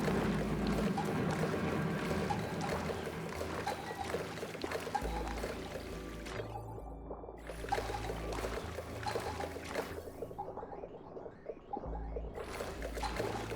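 Water pours and gushes steadily out of a dumping system in modded Oxygen Not Included, a dense continuous splashing rush that dips briefly twice before surging on.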